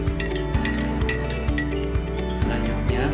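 A spoon clinks repeatedly against a glass while stirring young coconut water mixed with sweetened condensed milk, sharp close ringing taps at a steady, roughly half-second rhythm.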